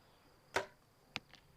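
A compound bow arrow strikes a target at a women's archery gold medal match, one sharp close impact followed by two fainter clicks, with no talk.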